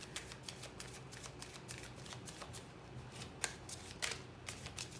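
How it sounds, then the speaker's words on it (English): Oracle cards are shuffled close up, a steady run of soft riffling and crisp snapping flicks, quiet and continuous with no voices. "let's get you some oracle cards"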